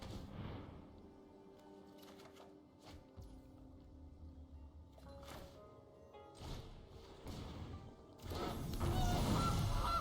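Goose honks from the Gilded Goose card effect in the MTG Arena digital card game, a few short game sound effects over layered interface music, ending in a louder burst of crashing effects.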